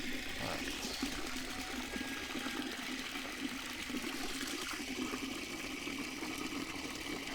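Water running steadily from a tap into a container in a Jamaican home, a continuous close trickling rush that holds an even level throughout with no talk over it.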